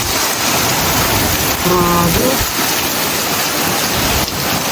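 Heavy downpour in Canada roars steadily and loudly throughout, a dense wash of rain noise with a brief tonal chirp partway through and voices exclaiming over it.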